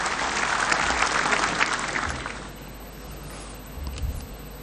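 At the Nasdem party congress, an indoor crowd claps in a dense burst of applause that is loud at first, then thins and fades to scattered claps, with a faint murmur underneath.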